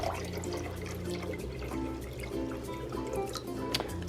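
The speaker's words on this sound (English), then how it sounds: "I'm going to go ahead and fill it up with distilled water, so this is not going to have any of the chemicals in it. And I'm going to pour it" Distilled water pours into a container for hatching baby brine shrimp, a soft continuous trickle with faint splashes and gurgles heard close and quiet, with no talking.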